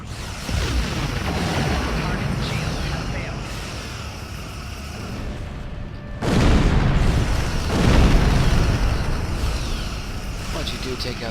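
Starship weapons fire and explosions in the Star Trek Online video game, a dense roar of rumbling booms with two heavy blasts near the end, mixed under a voice talking.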